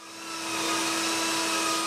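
A brand new electric sander with a vacuum attachment works on drywall, spinning up over the first half second into a loud, steady whirring drone that holds without a break.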